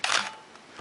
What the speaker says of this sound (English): now I'm going to take the lens off momentarily and just step down through these shutter speeds